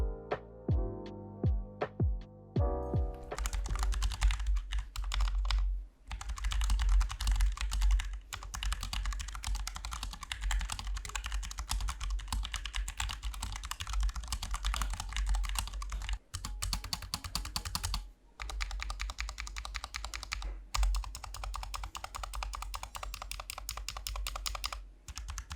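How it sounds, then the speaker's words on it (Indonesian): Someone types on a Dareu EK868 low-profile mechanical keyboard in its stock, unmodified state, producing a dense, continuous stream of close, crisp key clacks with brief pauses. "Berikut ini adalah sound test atau typing test dari Dariu EK868."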